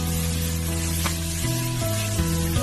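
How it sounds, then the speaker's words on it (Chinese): Tomatoes stir-fried in a wok with green and red peppers give a steady, close sizzle that runs the whole time, with sustained tones underneath and no one talking. "然后再把西红柿加进来，翻炒均匀"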